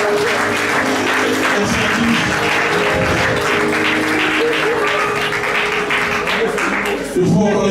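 A church congregation bursts into sustained applause and clapping, loud and steady throughout, with cheering voices mixed in and brief speech near the end.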